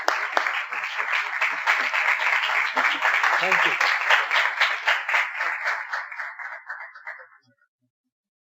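A church congregation claps to welcome Pastor Haroon Alfred, a dense burst of applause lasting about seven seconds before stopping abruptly, with a voice speaking briefly over it.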